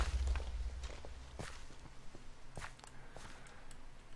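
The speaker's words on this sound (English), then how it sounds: "I hear footsteps." Minecraft footsteps thud along at an uneven pace, soft distinct steps over a low game background, with no talk.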